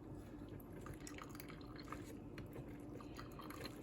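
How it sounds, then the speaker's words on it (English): Elderberries being mashed through a sieve, a steady wet squishing and dripping of juice, soft and close, with no talking. "I poured them into this sieve, and I am mushing them down"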